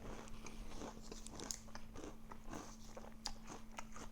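Frosted Flakes cereal cups with milk crunched close up, with steady repeated bites and crisp chewing, a faint constant hum underneath and no talking.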